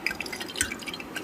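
Water drops sputter in hot oil inside an electric kettle used for cooking chicken curry in a hostel, giving quick, light, close crackles and pops scattered over a steady faint hiss, with no one talking.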